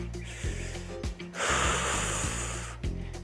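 Repeated heavy breaths and snorting exhales during a core-tightening ab workout, rhythmic and close, over steady background music with a longer forceful breath in the middle.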